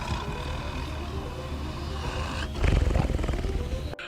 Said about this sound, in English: the creature sounds like something in the feline family